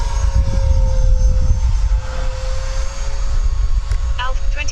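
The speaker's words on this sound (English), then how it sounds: "Let's do some more agility testing with this jet, see what it can really do." A Freewing F/A-18C 90mm RC jet flies overhead in a steady loud ducted-fan whine and roar over rumbling wind, continuous throughout.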